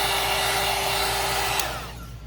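A hair dryer runs steadily and close on craft paper for mixed media work, a loud constant whoosh with a faint whine, then it cuts off and the airflow spins down near the end.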